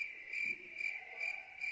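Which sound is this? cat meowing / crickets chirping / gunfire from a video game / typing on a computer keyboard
crickets chirping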